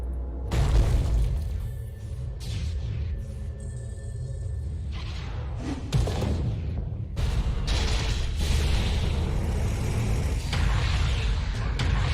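A tower comes under attack in a professional Dota match, with dense, continuous booms, crashes and shattering impacts layered over a low rumble.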